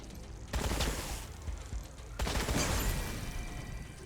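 Gunfire in the video game Wasteland 3, two dense bursts of rapid shots roughly a second and a half apart, loud and close with noisy rattling tails and no talk.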